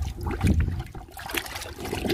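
Liquid fertilizer mixture poured onto a Barbados cherry plant in a garden, a steady splashing trickle of water soaking into soil, continuous and close throughout.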